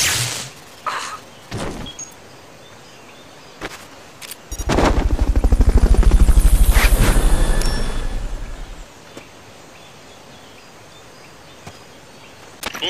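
A mechanical thudding builds to a loud, rapid helicopter rotor pulse for a few seconds, then fades, with scattered clicks and sharp bursts around it, in a video game.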